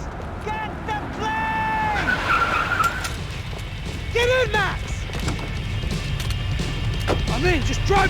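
Car engine and tire skids in a Max Payne 3 getaway chase, with repeated screeching slides and whooshes over a steady roar, while voices shout over the action.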